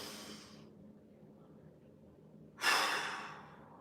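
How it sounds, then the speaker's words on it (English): Deep breath taken during a mobility exercise, a soft airy breath fading out early, then a louder, sharper inhale-exhale rush near the end, close and alone. "One more, big breath."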